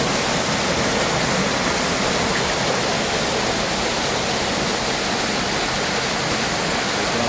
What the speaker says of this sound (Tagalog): makikita mo yung napakagandang waterfalls